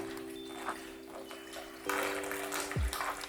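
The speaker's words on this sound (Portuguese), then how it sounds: "Olha lá a água vazando, ó." Water leaks and trickles out of an Oster evaporative air cooler as it is being filled, a steady close-up watery wash with a faint electrical hum and a brief low gurgle near the end.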